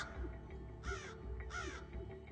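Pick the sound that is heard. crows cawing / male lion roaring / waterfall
crows cawing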